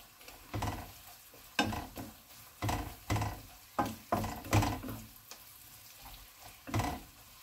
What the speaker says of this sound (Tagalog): nagluluto po tayo ng sibuyas